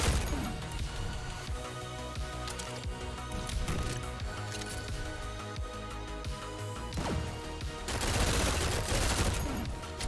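Pistol fire in the fast shooter GTTOD: Get To The Orange Door, a loud, busy stream of shots, crashes and impact hits packed close together with a steady game hum underneath, no speech.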